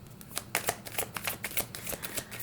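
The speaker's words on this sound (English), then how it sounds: "that came to me right now as I was shuffling" Tarot cards shuffled by hand, a run of crisp papery riffles and taps in quick irregular bursts, close and fairly quiet, with no talk.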